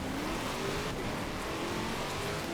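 A Lamborghini races through a snowy night event in Forza Horizon 4, its engine a steady, continuous drone with a faint rising whine, loud and close throughout with no talk over it.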